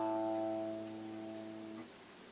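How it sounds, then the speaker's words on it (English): One plucked A string on an electric guitar sustains as a clean tone for a moment before dying away quietly, alone with no speech. "Now after that is an A."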